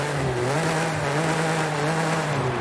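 A V6 engine in a lifted Nissan rally truck in Forza Horizon 5 holds a steady, droning hum at nearly constant revs, loud and continuous with no other sounds.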